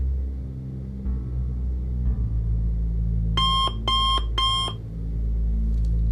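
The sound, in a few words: clock beeping as it counts down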